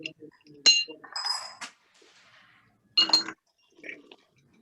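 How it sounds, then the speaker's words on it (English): Fresh ice cubes dropped into a cocktail glass, giving a few bright clinks and clatters in separate bursts, close and fairly clear, with quiet pauses between them. "Let's put some fresh undiluted ice into our glass here"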